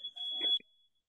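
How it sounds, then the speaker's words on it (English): A steady electronic alarm tone rings out for about half a second, a single sustained high beep with brief muffled background sounds underneath before it cuts off. "I'll go silent because there's alarm going on."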